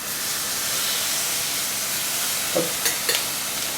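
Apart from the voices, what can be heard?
salmon pieces seared in a hot frying pan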